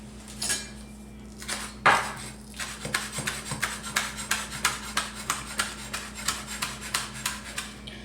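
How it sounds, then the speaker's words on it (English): Knife chopping ingredients for shrimp rangoon on a cutting board, a steady run of close, crisp, rhythmic taps at a quick even pace, with a few scraping clatters of utensils at the start. "I'm going to go ahead and chop that up and get it in there too."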